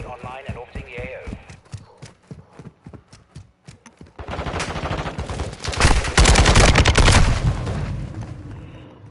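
Gunfire in Modern Warfare 2: rapid rhythmic bursts of shots under radio-style talk, swelling into a loud, dense volley of automatic fire and booms in the second half.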